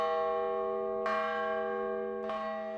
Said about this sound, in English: President Bone and the student body president rang the old main bell 5 times each for the 10 decades of ISNU